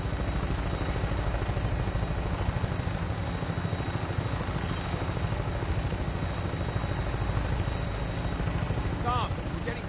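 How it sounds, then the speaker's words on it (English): A vertibird aircraft in the Fallout 4 video game flies with a loud, continuous rotor drone and a steady engine hum that holds unbroken throughout, while voices talk faintly underneath. "When we land, Tinker's gonna keep the vertibird spooled for an immediate takeoff"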